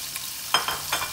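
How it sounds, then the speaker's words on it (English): Sausage dropped into hot garlic oil in a pan, giving soft sizzling crackles with a few brief louder bursts near, no voices. "Fry the sausage on one side for about 1 minute"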